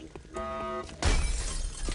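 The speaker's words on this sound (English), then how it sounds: "Stop breaking glass." Glass shatters in XCOM: Enemy Unknown, a sudden loud crash with scattered debris trailing off, following a steady tonal hum from the game.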